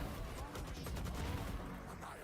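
Rapid gunshots in the video game Valorant, dense and continuous over about two seconds, low in level and blended with crowd and broadcast noise.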